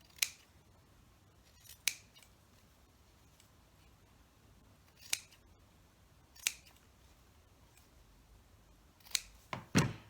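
Scissors snip through fabric while quilt pieces are trimmed, sounding as sharp, crisp isolated cuts spaced irregularly, with a quick double snip near the end, close and clear against a quiet room.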